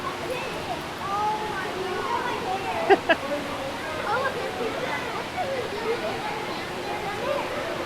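Water pours steadily into the head tank of a Hardin County treatment plant, a loud continuous rushing with two brief knocks midway and people talking over it.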